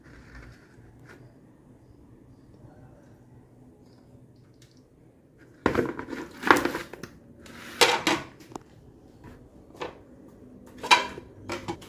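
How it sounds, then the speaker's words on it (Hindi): Raw chicken necks dropped into a mixing bowl: after a quiet stretch, a cluster of wet thuds, squelches and bowl clatter comes in irregular bursts, fairly close, with no talk. "यहाँ पे गर्दनें हमने डाल दी हैं मिक्सिंग बॉल के अंदर"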